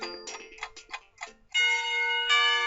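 A school lunch bell chime from the visual novel game Katawa Shoujo. Ticking, bell-like tones lead into a loud, sustained ringing chime that holds to the end, with no talking.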